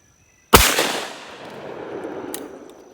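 A single sharp shotgun blast from a 100-year-old Hercules fired at a clay target outdoors, loud and close, trailing into a long fading echo with a faint second crack near the end.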